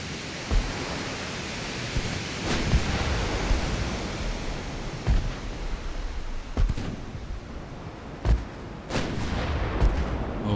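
Naval guns firing in Ultimate Admiral: Dreadnaughts, an Italian fleet of 1890, with periodic booming shots over a constant roar of sea and wind.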